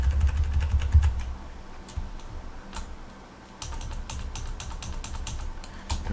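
Typing on a computer keyboard, with quick irregular bursts of clicking keystrokes interrupted by short pauses, heard close and clear over low background rumble.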